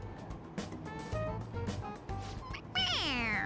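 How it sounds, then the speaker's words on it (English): A squeezable toy cat in the video game Persona 5 Royal meows when its head is pressed; several cartoonish meows ring out over game music, ending in a louder, drawn-out descending yowl. "It meows when you press on its head."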